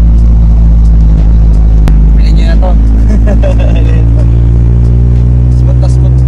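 A Toyota Corolla project car runs and drives, its engine a loud steady rumble with road noise filling the whole stretch, while someone speaks briefly over it.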